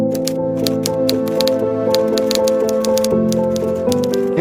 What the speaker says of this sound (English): For Helmuth, it was time to sit down and start typing up the truth.